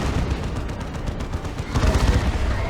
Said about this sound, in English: The Stormlord's Mega Vulcan Bolter is Inferno damage, so will do great damage to the Terminators